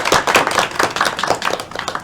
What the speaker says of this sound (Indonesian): kita beri aplaus dulu untuk Sandi dan Lydia ya